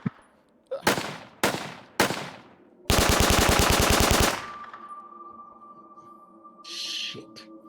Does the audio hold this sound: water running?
no